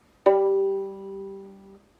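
A single low violin note bowed on the open G string, held steadily for about a second and a half, then stopping cleanly.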